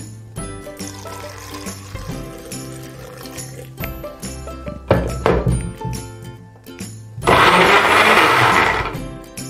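Blender chopping 100 grams of dragon fruit peel with water, a loud whirring motor that starts and stops in bursts, with pouring and sloshing liquid between runs and a strong final blending stretch.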